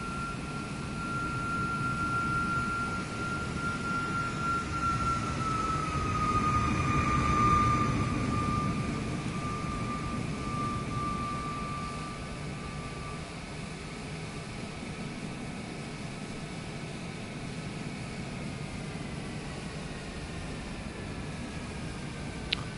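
Aircraft taxiing in Microsoft Flight Simulator 2024, a steady low engine rumble with a faint whining tone that swells slightly midway and then settles, continuous and fairly quiet throughout.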